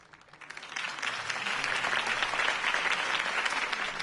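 Crowd applause in the video game Batman: The Telltale Series swells quickly and holds as a steady, dense wash of clapping.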